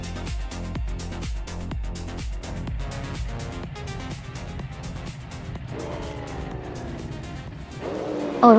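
Race cars start a race at Autumn Ring Mini in a racing video game, engines revving in rhythmic surges as they pull away together, with a climbing engine whine and a sharp loud burst at the end.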